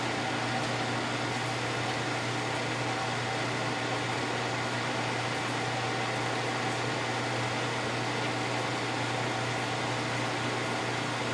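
An MSC milling machine, freshly repaired, runs with a steady, even mechanical whir and hum that holds constant throughout with no talking.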